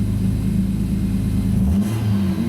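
A car engine with trouble codes P0170 and P0173 hunts at idle, its steady low drone sagging and then climbing back up around the midpoint, continuous and close with no talking.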